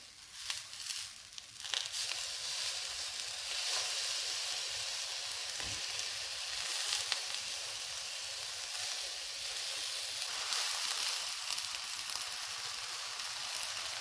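Eggplant slices fry in a pan over medium heat, giving a steady, close sizzle and hiss that runs the whole time, with a few faint clicks and no talking.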